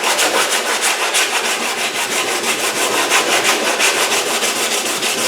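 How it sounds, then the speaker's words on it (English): Close, loud hand sanding with a block and 80-grit paper across a fiberglass bumper on a C3 Corvette, a continuous rhythmic scratchy rasp of back-and-forth strokes with no talking. "to sand it, all you need is a block and some 80 grit"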